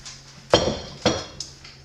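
An eggnog sourdough loaf with a crusty top dumped from its pan onto a kitchen counter: two sharp hollow clanks of the metal pan about half a second apart, followed by a lighter knock, all close by.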